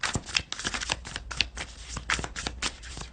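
Tarot cards riffled and shuffled by hand during a reading, a dense run of quick papery flutters and snaps with brief pauses, close and clear with no talking.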